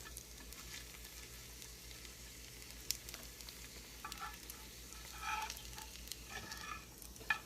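Bacon frying in a pan crackles and sizzles steadily, with scattered sharper pops and spits rising above a continuous low hiss, close and fairly quiet, with no voices.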